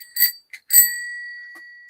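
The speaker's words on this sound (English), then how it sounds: "hit the notification bell" A notification bell sound effect: a bright bicycle-style bell rings, gives a quick short tap, then rings again and fades out cleanly, alone with nothing else underneath.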